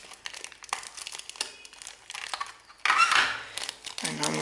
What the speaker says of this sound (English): let's take the headphones out of their casing